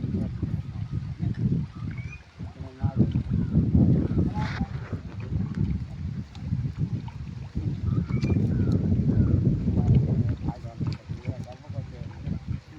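A pump motor drains a pond during fish harvesting, a low, steady rumble close by, mixed with wind buffeting and people talking over it.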